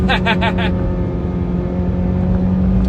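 A video-game car engine drones loudly and steadily, held in second gear on a downhill road, with a brief burst of higher revving at the start.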